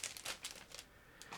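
A plastic bag holding plastic model kit parts is opened, giving a few quick crinkling rustles in short bursts, close and fairly quiet with no talking.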